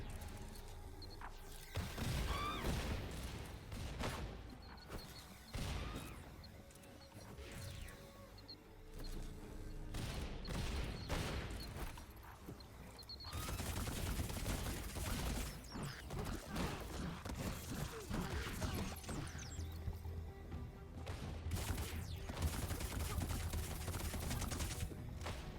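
Bombs go off in rapid succession during a boss fight in the video game Funko Fusion, with dense bursts of blasts and clattering effects arriving in irregular clusters, loud and close.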